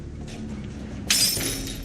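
Glass shattering in a Spider-Man film: a sudden loud crash bursts in partway through, breaking into bright scattering shards that ring and trail off, following a stretch of low rumbling background.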